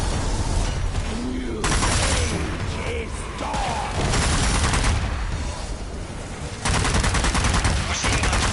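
Bursts of heavy machine gun fire in the zombie shooter Zombie Army 4, rapid loud rattling volleys that start and stop several times.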